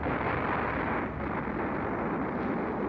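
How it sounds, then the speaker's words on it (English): A massive explosion behind the player in the video game Robotics;Notes Elite: a dense, sustained roaring rumble, loud and unbroken, with no voices. "Just then, the sound of a massive explosion erupts from behind me."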